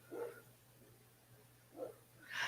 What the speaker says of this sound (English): the dogs are barking right now